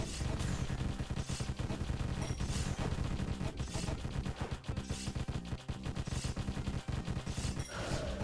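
Laser weapons in a roguelike video game firing in a dense, nonstop barrage of rapid zapping shots over a thick game soundtrack, loud and continuous throughout.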